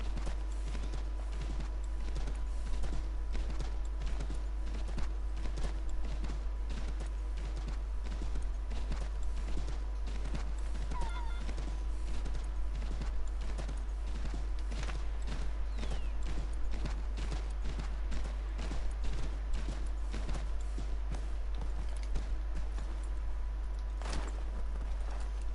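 Steady clip-clop of a horse's hooves in Assassin's Creed 3, loud regular hoofbeats running the whole way through with a faint ambient backdrop and no talking.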